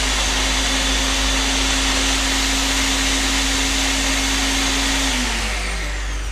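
A kitchen blender grinding ingredients for a smooth chickpea gravy, a loud steady whirring roar with a constant motor whine that holds for several seconds and then winds down slightly at the end.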